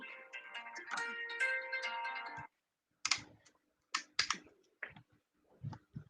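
A mobile phone rings with a melodic tone for about two and a half seconds, then falls silent, followed by short bursts of clicking and handling noise, during a gymnastics interview.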